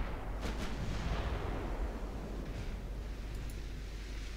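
Heavy naval guns boom in Ultimate Admiral Dreadnoughts as the cruiser Kako fires from her stern turret at a transport in 1942 waters, a dense, continuous low rumble of distant salvos with no talk.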